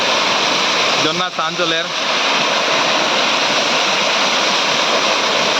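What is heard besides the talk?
Hailakandi waterfall rushing water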